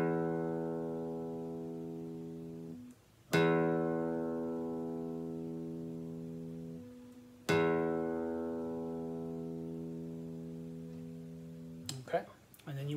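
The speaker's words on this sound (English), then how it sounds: "So here's what the low E should sound like." A guitar's low E string is plucked three times, each note ringing out long and decaying slowly, with clear gaps between the plucks and a brief handling noise at the end.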